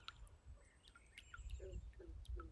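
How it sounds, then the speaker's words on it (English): Birds chirp and tweet in short scattered calls around a calm mountain lake, faint and distant, with soft low rumbling ambience beneath. "Birds going crazy, bullfrogs are going. You got other birds chirping."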